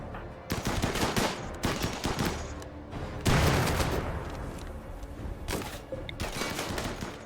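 Automated turrets in RimWorld fire in rapid bursts, loud and close, with dense crackling volleys and brief pauses across the whole stretch.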